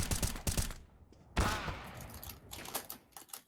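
Gunfire from CS:GO fired through a wall, rapid clusters of sharp shots in bursts, a sudden loud blast midway, then further scattered quick shots, no talk.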